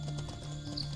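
Horse hooves clopping in the video game Mortal Online 2, a quick run of soft, faint taps under a steady low ambient hum.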